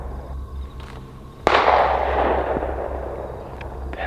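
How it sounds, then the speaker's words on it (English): A single sharp pistol-like report cracks outdoors at a campsite, followed by a long echoing decay over a low steady background hum. "That's a pistol."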